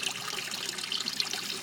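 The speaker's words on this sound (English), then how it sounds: "And there's a water pump." Water from a pump trickling and splashing into cinder beds of a backyard aquaponics system stocked with golden tilapia, a steady bright babble with no talk.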